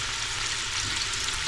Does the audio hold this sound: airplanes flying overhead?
no